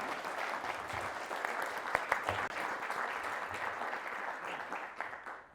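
Steady, sustained audience applause fills a lecture hall to welcome the speaker at the 2024 Ron Clifton Lecture in American Studies, a dense clapping crowd that tapers off at the end.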